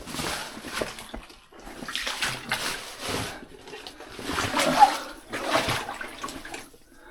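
Splashing through water of unknown depth near a collapse, in repeated surging bursts with brief pauses between them, loud and close, with no talk over it.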